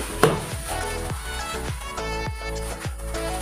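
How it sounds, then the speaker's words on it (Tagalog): Water bubbles and hisses steadily in a cooking pot, heated for fish sinigang, a continuous rolling boil with faint clinks and rattles mixed in. "Ang kumukulo na yung ating tubig"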